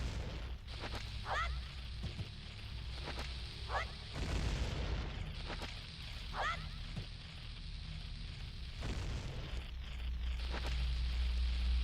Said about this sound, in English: 20 bombs away, and not a single pot destroyed